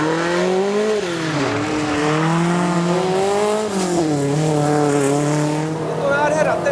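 A Subaru's engine roars loudly and close while cornering, its pitch climbing and dipping repeatedly as the revs rise and fall through the turns.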